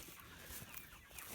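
Laying hens clucking in a wet nut field, soft overlapping clucks and murmurs from a nearby flock, faint and steady, with no talking.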